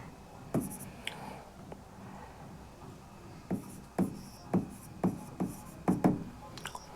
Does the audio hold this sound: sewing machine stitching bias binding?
no